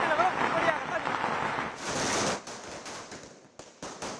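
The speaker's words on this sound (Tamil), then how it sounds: "அனுமதிக்கப்பட்ட நேரத்தில் தீபாவளி பட்டாசு வெடிக்கிறது மிகவும் களை கட்டியிருக்கு" Diwali firecrackers burst in Chennai's Triplicane streets, with dense crackling under a steady noisy wash, then several sharp separate bangs near the end.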